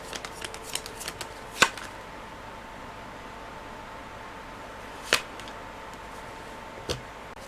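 Tarot cards being shuffled close by, a flurry of quick riffling flicks followed by a few sharp, isolated snaps spaced seconds apart over quiet background hiss.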